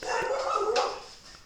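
A pet dog named Rita barks indoors at a squirrel outside, a single close, fairly loud bark-whine that rises and trails off, with no talking.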